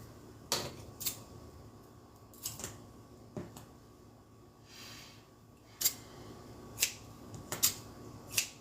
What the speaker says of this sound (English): I'm going to cut off some other little pieces of tape